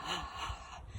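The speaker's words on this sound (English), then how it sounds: "Deep breaths in." A deep inhaled breath during a gentle jiggling and bouncing warm-up exercise, one short airy intake lasting about a second, close and fairly quiet, with no talking.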